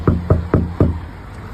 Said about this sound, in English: maybe give it another knock